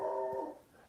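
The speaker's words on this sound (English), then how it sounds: "If there's just going to be a dog in the background of this" A dog in the background gives a single short whining yelp, fairly faint, fading out within a second.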